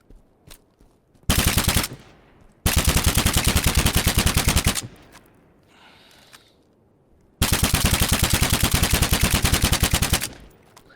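MSR sniper rifle firing in a video game: three long, loud bursts of rapid, evenly spaced shots, each lasting a second or two, with quiet pauses between them.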